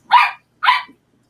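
A puppy gives two sharp, bright barks in quick succession, close and loud, with silence between and after.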